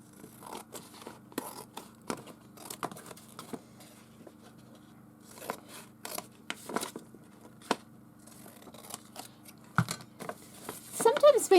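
Scissors snip through craft paper while trimming a piece slightly oversized for a stitched tag, giving scattered soft cuts and light paper rustles with quiet gaps, a little busier near the end.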